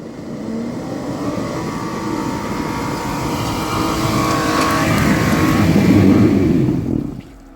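An off-road car climbs a slope at an offroad club event near Gori, its engine revving hard in a sustained, rising roar that swells louder before cutting off abruptly near the end.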